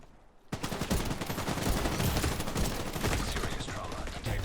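Rapid, dense rifle gunfire in The Division 2 player-versus-player combat, a loud continuous barrage of sharp shots that starts abruptly after a brief quiet moment.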